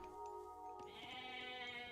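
In the Age of Mythology video game, a goat gives a single drawn-out bleat over layered game music and ambient tones, clear but not loud.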